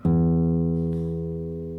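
The low E string of a classical guitar is plucked once and rings steadily, sustaining its deep, rich tone through to the end.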